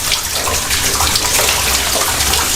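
A lukewarm shower runs steadily, water spraying and splashing in a continuous broadband hiss close to the microphone, with no voices over it.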